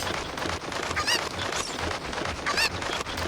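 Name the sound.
chickens clucking in the video game Ocarina of Time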